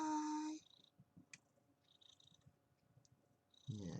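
Roo, a studio cat, purrs in soft low rumbles between louder bursts of a person's voice at the start and end, the purring faint and steady through the quiet middle.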